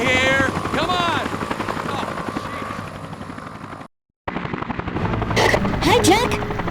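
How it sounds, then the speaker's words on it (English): A news helicopter flying overhead in the video game Dead to Rights, a continuous rotor drone under shouting voices and game sounds, broken by a short gap of silence. "News chopper. Right across from you."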